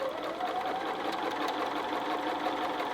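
Sewing machine stitching a quilt block's diagonal seam, a continuous fast mechanical whir with a rapid even needle rhythm, heard close and steady throughout.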